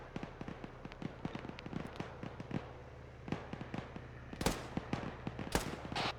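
A firefight in the video game Arma 3, with many sharp gunshots popping in rapid, uneven succession over a steady background hum, and a few louder close cracks standing out.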